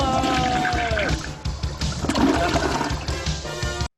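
A toilet flushes in a loud, close rush of swirling water that runs steadily for about four seconds and then cuts off abruptly.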